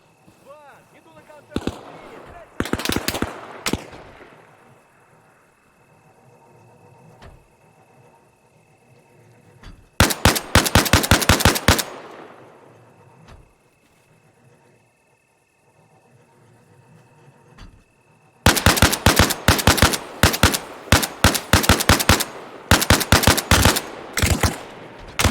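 BMP armored vehicle machine gun firing in Arma Reforger, loud rapid bursts of shots in three separate volleys with quieter gaps between, the last burst long and sustained, with someone talking in between.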